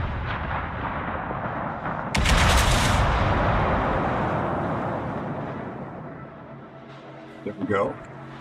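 Naval guns firing HE shells in the World of Warships video game: a heavy, booming salvo rolls into a long rumbling decay, with a voice talking over it.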